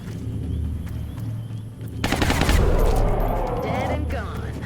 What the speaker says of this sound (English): Gonna get overwatch shots here after this.